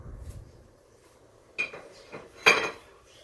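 Cooked bacon tipped into a mixing bowl for a homemade French meat pie filling, giving a couple of sharp clinks and clatters of dishes and utensils close by in a quiet kitchen.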